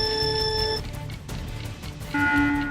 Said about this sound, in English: I'm gonna start a timer